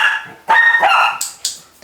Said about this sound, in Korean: 그거 누르면 짖는 것 같은데요?